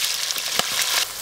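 Green chillies fry in hot oil for an aloo tamatar curry, giving a continuous close sizzle with a brief louder crackle midway. No one speaks.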